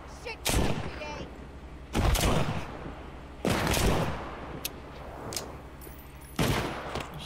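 Four gunshots from a .38 revolver in The Walking Dead: Saints & Sinners video game, sharp loud blasts spaced about a second and a half apart, each with a short ringing tail, with faint low talk between.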